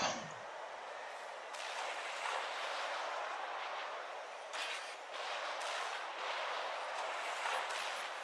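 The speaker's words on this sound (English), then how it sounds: "Now blow it all up." Explosions destroying units in the strategy game Supreme Commander, a dense, continuous roar of rumbling blasts with repeated louder booms rising out of the din, loud and close, with no talking.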